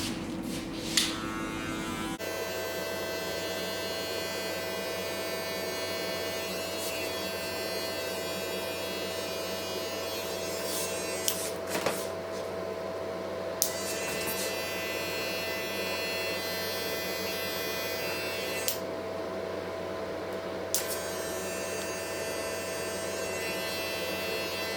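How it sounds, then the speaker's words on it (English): A hair dryer blow-drying a pompadour hairstyle runs steadily with a loud, continuous whirring hum for over twenty seconds, the airflow briefly shifting as it is moved around the head. "C, I'm going to blow dry"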